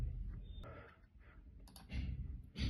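Mouse clicks on an online payment gateway page while paying a taxi road tax, a few sharp faint clicks spaced through a quiet room with low background hum.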